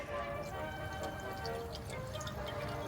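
Pepsi poured into a car's coolant reservoir, a steady close trickle of liquid with faint fizzing and bubbling, moderately loud and continuous for a few seconds.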